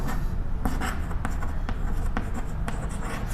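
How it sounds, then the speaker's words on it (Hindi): Marker or chalk strokes on a board as a chemical name gets written out, a steady run of short scratchy strokes and taps, fairly close, with no talking over them. "इसका नाम लिख रहा हूं मैं"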